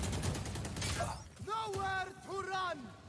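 Gunfire in a Valorant match at a grand finals esports event: a burst of sharp shots early on, with a caster's excited voice running over and after it.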